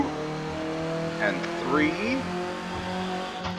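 Synthesized race car engine note from a racing video game at Sebring, a steady droning tone with rising pitch sweeps as it revs through corners, heard under continuous commentary.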